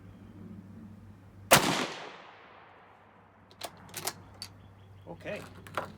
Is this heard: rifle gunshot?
yes